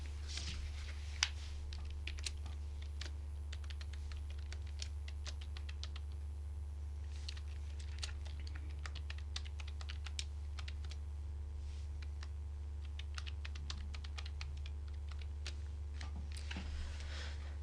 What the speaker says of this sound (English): So root user's password you can write here.